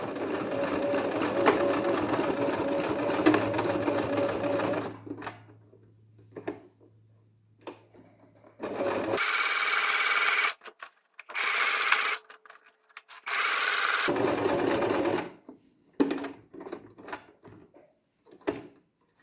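A domestic sewing machine stitches around the edge of a cloth face mask in several loud motor bursts of a few seconds each, separated by quiet pauses, with soft handling noises between runs.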